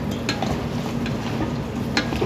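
Food for lunch is stirred in a pot over steady sizzling, with scattered scrapes and clinks of a utensil against the metal.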